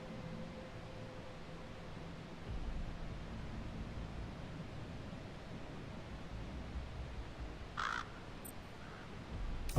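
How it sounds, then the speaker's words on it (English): Crow caws in Metal Gear Solid V: The Phantom Pain, a short distant call rising briefly over a steady windy outdoor ambience with low rumble, no voices. "bird."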